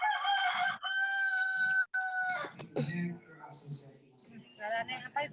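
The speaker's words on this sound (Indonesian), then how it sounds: "Ayam ya?" A rooster crows in a long, bright drawn-out call heard up close, followed by lower clucking and background voices talking over a busy room at an event held at a hotel in Kediri.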